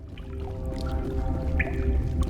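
Soft, irregular water drips and trickles echo through an icy iceberg cavern in Mass Effect, set against a steady low ambient rumble with a few brighter tonal accents, and no talking.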